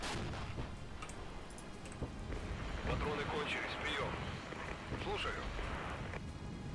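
Artillery barrage in the strategy game Regiments, a dense run of booming shots and rumbling impacts rolling on throughout, with a voice talking over the din.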